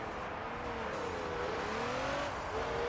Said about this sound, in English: let's rev match